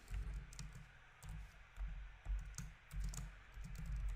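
Code typed on a computer keyboard, with quiet, close clusters of key taps in irregular bursts and brief pauses, with no voices.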